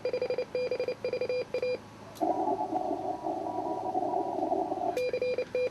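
A ham radio at a club Field Day station automatically sends CQ calls as clipped, repeating tone bursts in a steady rhythm, broken by a few seconds of a continuous buzzing tone before the beeping resumes.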